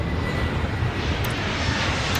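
A jet airliner roars down the runway on takeoff in the Airport Madness game, a loud, steady broadband engine rush throughout with no voices.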